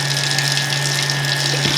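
Half a cup of water poured into a bowl of lemony baking paste in a home kitchen, a steady rushing pour that runs unbroken under a faint electrical hum.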